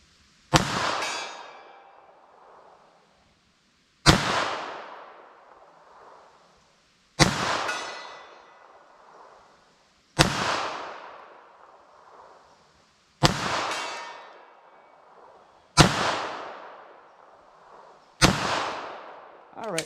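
A .380 ACP pistol firing cheap Magtech JHP rounds at an outdoor range: seven sharp, loud shots spaced about three seconds apart, each followed by a fading echo.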